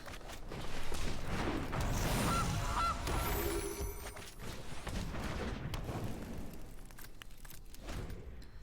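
A goose card in MTG Arena plays its honking effect, a loud, dense burst of squawks and clattering layered game sound that holds for several seconds before settling to a busy, lower wash.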